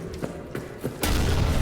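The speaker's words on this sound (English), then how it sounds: "We're just gonna throw a grenade over there" A grenade explosion in the video game Amnesia: The Bunker: a sudden loud, broad blast that rolls into a sustained rumbling roar, following a few softer thumps.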